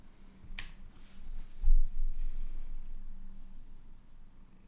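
A cat purrs close to the microphone in a low, steady rumble that runs through the whole stretch, with a brief sharp click near the start and no talking.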